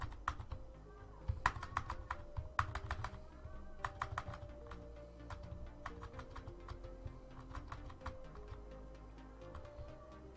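Rapid, steady typing on a computer keyboard while text goes into a PDF editor, a close run of crisp clicks with brief pauses between bursts, alone with no talk.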